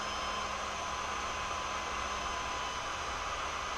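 Cooling fan of an ISDT lipo battery discharger whirs steadily as a continuous broadband hiss with a faint tonal hum, close and unbroken with no voices.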